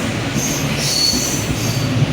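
A Mumbai slow local train near Thane station rolls steadily with a continuous loud rumble of wheels on rails and high metallic squealing, heard from inside the carriage.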